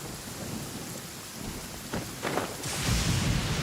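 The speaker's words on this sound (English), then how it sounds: "No instrument could ever replicate the sheer power and grandeur of thunder." Thunderstorm in the video game Genshin Impact: steady rain hiss throughout with a low rumble of thunder building and swelling toward the end, fairly loud and enveloping.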